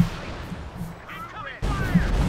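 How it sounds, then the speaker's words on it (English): Artillery bombardment in Company of Heroes 2, heavy booming impacts rolling in with a sharp loud burst partway through, under a voice talking. "But, oh, here we go, second bombardment."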